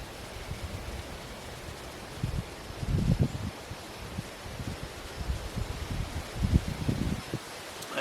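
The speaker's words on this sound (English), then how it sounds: "Man, this wind, I'm telling you, it just won't stop, y'all." Strong wind gusting through trees in the woods at night, a steady broadband roar with louder surges and rustling bursts coming and going; no voices.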